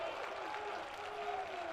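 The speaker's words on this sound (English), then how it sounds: "Vikings dugout, they have their own cheer for hitting right now as everybody's in unison there" Dugout players at a high school state championship baseball game chant and cheer together for their hitter, a steady crowd roar with a faint whistle-like tone running through it.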